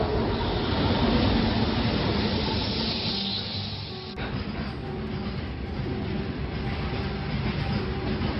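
A train at Dahisar railway station, a continuous loud rumble and rattle of wagons rolling along the track, with a steady roar that shifts character midway, close by and with no voices.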